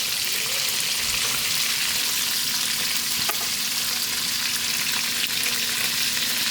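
Fish frying in a pan, crackling and sizzling steadily in hot oil with dense spitting pops and a few sharper snaps, close and continuous throughout.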